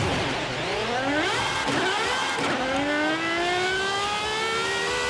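A 2023 Aston Martin Valkyrie hypercar with 1140 horsepower, weighing 1350 kg, accelerates hard in Forza Horizon 5. The engine screams upward through several quick gear shifts, loud and close, with no talk.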